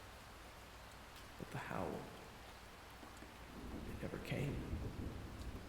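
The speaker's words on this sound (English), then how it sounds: "The rain was the only thing you heard." Steady rain falling as a roleplay sound effect, a constant wash with low thunder-like rumbles swelling twice, under a quiet narrating voice.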